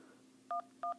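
Telephone keypad tones dialing the carrier number 611 on an iPhone, two short pairs of beeps spaced apart, clear and moderately loud over a faint steady hum.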